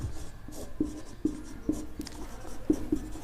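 Marker or chalk taps and strokes on a board during a physics lesson, a series of short, close knocks and scratches spaced irregularly about half a second apart.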